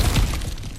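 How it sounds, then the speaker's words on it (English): Ground cracking and shattering apart in God of War Ragnarok, a short, heavy crunching break with a low rumble that fades quickly. "back to smashing through things for fun and profit"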